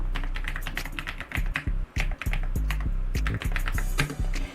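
Rapid typing on a computer keyboard, a dense run of sharp key clicks and clacks with brief pauses, close and fairly loud, no talking.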